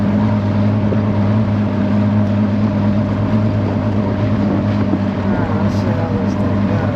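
Javelin boat engine running on a lake, a loud, steady motor drone with wind rushing across the microphone, continuous and close throughout.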